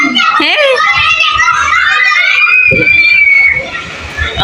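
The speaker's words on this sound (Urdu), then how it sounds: "اور بچوں کا شور دیکھیں کتنا انجوائے کر رہے ہیں" Children play and shout excitedly during rain in Karachi, their shrill voices loud, close and continuous with overlapping squeals and calls.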